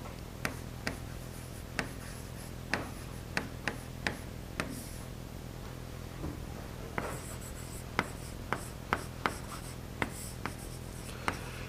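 Chalk or marker writing on a classroom board during a science lesson, a steady series of sharp taps and short scratchy strokes at an irregular pace, close and clear, with a low steady hum underneath.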